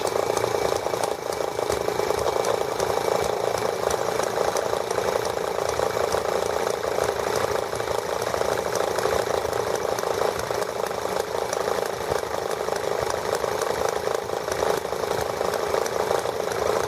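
A small ET8 engine runs steadily after starting, a continuous buzzing drone with an even, unbroken tone throughout, loud and close with no pauses.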